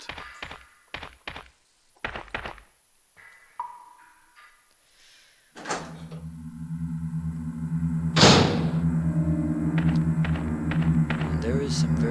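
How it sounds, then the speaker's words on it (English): Thunks and taps from a door being opened in the Resident Evil game, a few separate knocks early on, followed by a loud, sustained ambient drone and a sharp burst near the end. "we're gonna go through the left door first"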